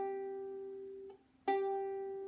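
Ukulele G string plucked twice during tuning, each a clear sustained single note ringing and slowly decaying, close and quiet, with a short gap between plucks.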